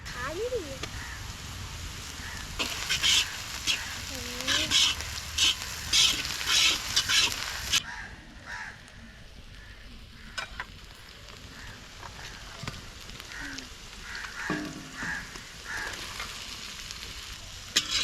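Ginger and garlic frying for a street-food vegetable pilaf, a steady close sizzle with stirring scrapes throughout. It shifts and softens partway through, and a voice speaks over it.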